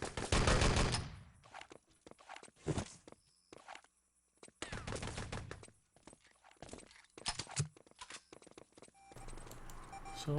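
Gunfire in a 3-on-3 Enemy Territory tournament match comes in loud, separate bursts broken by short pauses, with footstep-like clatter between them.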